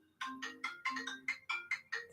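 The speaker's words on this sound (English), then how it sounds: "That sounded like a phone ringing, but it wasn't my phone" A phone-like electronic ringtone chirps in eight short, bright bursts in quick succession, loud and close, with no talk over it.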